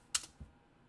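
A few keystrokes on a computer keyboard, a sharp close click followed by a softer thud, brief and isolated in a quiet room.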